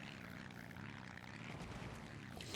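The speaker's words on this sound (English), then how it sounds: "we have the V12 Rolls-Royce Merlin engine right here, with its neat-looking pipe stacks" Supercharged V12 Rolls-Royce Merlin engine with pipe stacks in BeamNG.drive, a steady droning aero-engine roar that stays even and fairly faint throughout.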